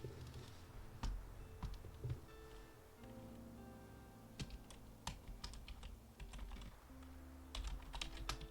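Steady typing on a computer keyboard during a writing session, keys clicking in uneven bursts with short pauses, fairly quiet and close, with a soft low background hum and no talking.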